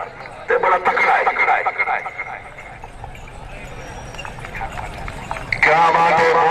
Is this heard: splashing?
no